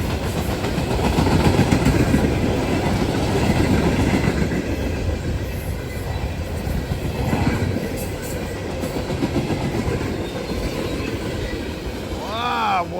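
A freight train rushes past at speed with a loud, continuous rumble of wheels and rolling wagons that clatters steadily from start to finish.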